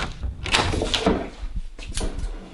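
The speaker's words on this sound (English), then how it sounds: "Can you just like open the door or something?" Door being opened in a home, heard as loud wooden thumps and sliding, rattling clatter in short bursts, close by.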